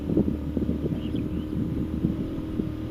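A GT motorcycle cruising on a highway, its loud exhaust producing a low, rumbling drone with uneven pulses, mixed with buffeting wind noise on the microphone and no talking.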